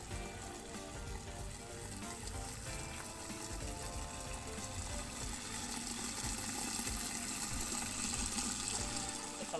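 A pump fills a hydroponic pot with water, giving a continuous gushing and trickling flow under a low mechanical hum, steady and moderately close throughout.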